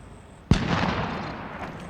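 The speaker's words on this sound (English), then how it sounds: "Someone else has just fired." A single sharp gunshot bang in Call of Duty: Warzone, close and loud, followed by a rolling echoing tail that fades slowly.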